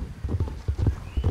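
A mule at full gallop in a video game gives rapid, heavy hoof thuds in a quick rolling rhythm, close and moderately loud, with no talking.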